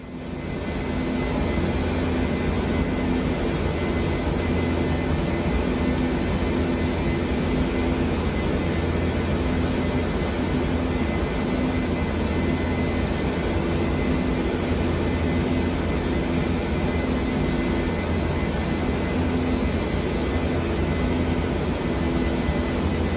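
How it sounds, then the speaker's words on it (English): Steady, loud jet engine roar of an airliner in cruise after level-off in the Prepar3D flight simulator, a constant broadband hum with a low tonal drone throughout. "The engines now starting to power down slightly because we no longer have to be climbing away from gravity"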